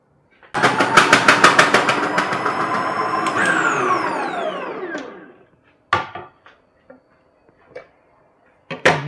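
A Vidiem Tusker food processor motor whirs loudly with a rapid ticking pulse, the pitch sliding down as it winds to a stop, then a few sharp clicks and knocks follow.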